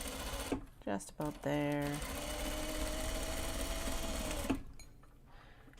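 A serger stitches fabric for grime guards in a sustained mechanical whir after a few stop-start bursts, while a person says a few words over it before the machine halts.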